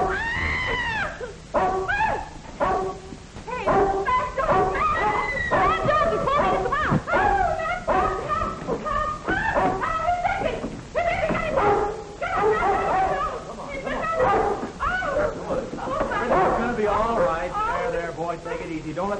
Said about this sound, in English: Princey, you naughty dog. You shouldn't have done that.